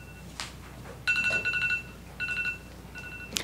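A mobile phone rings in a county planning meeting room with repeated electronic tone bursts in short clusters, fairly loud and near, against quiet room hum.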